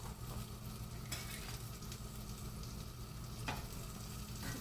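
Bitter gourd stirred in a large pot on a gas stove while oil heats, a steady low sizzle under repeated scraping strokes of a spoon against the pot, close and continuous with no voices.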